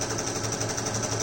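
A sewing machine runs a zigzag stitch along a fabric face mask edge, a rapid, even mechanical chatter heard up close and uninterrupted.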